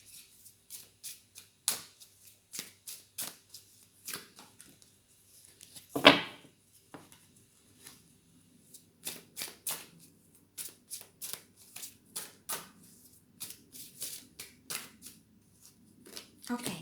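Tarot cards are shuffled by hand in a long series of soft, close riffling and tapping bursts, with one sharper knock midway, while a person talks quietly at times.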